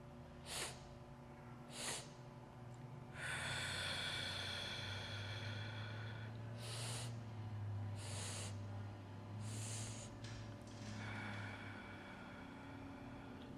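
Deep, drawn-out breaths through the nose in a gentle yoga breathing exercise: several broad airy inhales with a few sharper sniffs, fairly close and clear over a low steady hum, with no talking.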